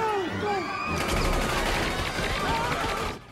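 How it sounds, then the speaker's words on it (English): Machine gun fire in a violent film scene, a dense rapid burst of loud shots with crowd noise and a shouted voice, cut off abruptly at the end. "Use the machine gun!"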